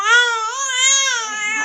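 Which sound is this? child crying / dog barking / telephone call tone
child crying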